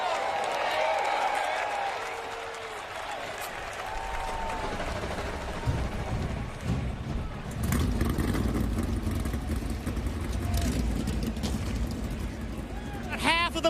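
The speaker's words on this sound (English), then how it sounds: "Drivers, start your engines." NASCAR stock car engines fire up at Kansas Speedway during the 2023 Hollywood Casino 400, a growing roar of many motors under crowd noise and a voice, building in the second half.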